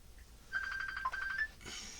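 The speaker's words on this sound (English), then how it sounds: "And there goes my phone." A phone rings nearby with a steady electronic tone of repeated pulses lasting about a second, then cuts off into a brief broadband rustle; no one speaks.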